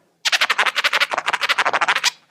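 Turntable chirp scratches from a DJ come as a fast, continuous run of nearly twenty bright, squawking chirps, packed tightly and close, with no speech over them.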